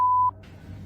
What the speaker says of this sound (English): And then a door alarm goes off.